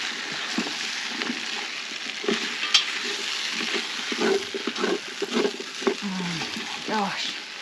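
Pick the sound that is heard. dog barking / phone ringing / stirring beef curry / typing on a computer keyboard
stirring beef curry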